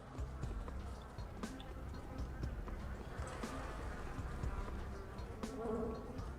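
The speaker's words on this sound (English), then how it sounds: "I hear flies and stuff" Flies and insects buzz around a scene in the video game Pathologic, a constant low drone with scattered clicks and soft hoof-like taps mixed in at moderate level.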